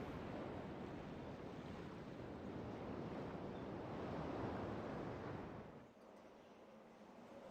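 Ocean waves in the video game Riven, a broad steady wash of surf that rolls on evenly and then drops off sharply near the end, with no voices over it.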